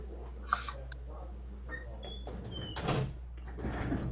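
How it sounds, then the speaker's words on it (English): A door being pushed shut indoors, with a sharp click early on and a duller thud and rattle a couple of seconds later, close by and moderately loud over quiet room noise. "Let me close my door."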